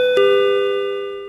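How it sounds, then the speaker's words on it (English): A single bright door chime rings out as intruders enter a store, struck once and left to decay slowly, clear and alone with no voices. "A chime rings out as two masked intruders enter the store."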